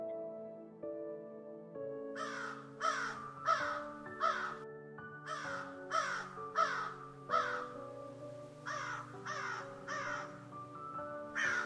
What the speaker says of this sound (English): Well, the crow is crowing.